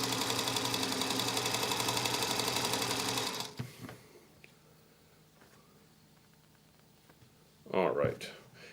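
Sewing machine running steadily while chain stitching quilt rows, a loud continuous rapid whirring that stops after about three seconds, followed by quiet handling and a brief burst of rustle near the end.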